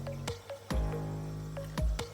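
Bubbles of CO2 passing one by one through a homemade bubble counter fed by a soda-bottle CO2 setup, giving soft wet blips and plops at an irregular pace, close and fairly quiet.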